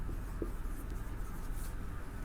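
Marker or chalk writing on a board during a Hindi grammar lesson, a steady faint scratching over a constant low room hum, with no talking.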